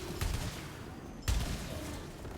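Gunfire in the video game Returnal, two sharp bursts of shots about a second apart, punchy and close over a low ambient game bed.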